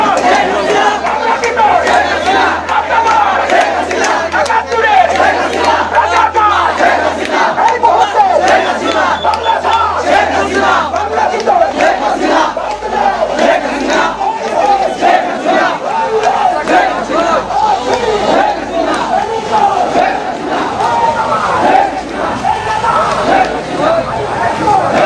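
A large crowd at a political rally in Bangladesh chants slogans together, a loud, dense roar of many voices rising and falling in rhythmic bursts, with shouting mixed through it.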